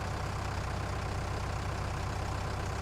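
A tractor engine idles with a steady, low droning hum in Farming Simulator 19, an even and continuous rumble with no break.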